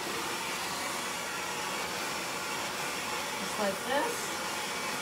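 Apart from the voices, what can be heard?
hair dryer blow-drying long layered hair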